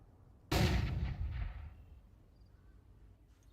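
A flashbang or grenade detonates in a competitive video game match, a single loud, sharp blast that fades into a rumbling decay over a couple of seconds, heard alone.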